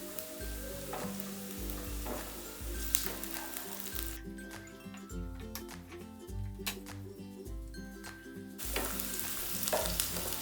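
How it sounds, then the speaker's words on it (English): Ogiri sizzles and fries in hot oil for abacha, a steady crackling hiss that continues for about ten seconds while background music plays along. "I added my ogiribo and fry till it's completely dissolved in the oil"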